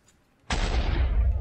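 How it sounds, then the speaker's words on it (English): A sudden loud Minecraft creeper explosion bursts in after a brief quiet moment and rumbles on with a heavy, sustained roar. "there was two creepers. I was just killing them, and then one got mad at the other one and exploded"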